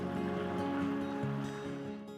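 Sea waves wash over a row of coastal rocks, a steady broadband surge with gentle swells, continuous and moderately distant, with no voices.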